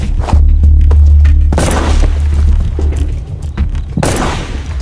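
Gunshots are fired right beside sniper candidates during training in a film, loud deep booms ringing out, with two sharp blasts standing out over a heavy low rumble.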